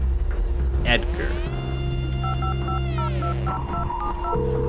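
Telephone keypad tones beep in short alternating dual-pitch bursts as a number is dialed in the video game The Red Strings Club, set over a steady synth drone and a rising sweep, with a voice briefly heard.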